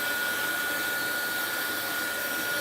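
A hair dryer runs steadily and loudly throughout, drying wet watercolor paint, with a constant blowing whir that never changes pitch or pauses and no voices over it.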